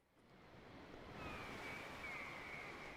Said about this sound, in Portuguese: Tô colocando um sonzinho de mar aqui pra ficar bem relaxante a nossa live